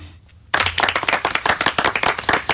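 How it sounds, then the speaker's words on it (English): A round of applause in a radio studio starts abruptly after a brief quiet moment, a small group's sharp, close claps rattling quickly and unevenly. "round of applause for me, please, Keith."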